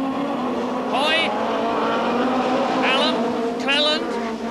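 Onboard a 1991 British Touring Car Championship racer running in second place, the engine drone fills the cabin as whining gear-shift pitch sweeps rise and fall three times, with race commentary over it.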